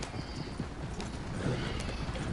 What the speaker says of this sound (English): Look at all of these horses just.